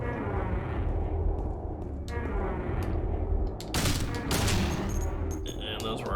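Gunfire in the horror video game Silent Hill 2, a rapid burst of shots fired at a creature, loud and close, with a player's voice talking over parts of the action.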